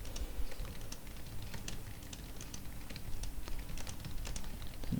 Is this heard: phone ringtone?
no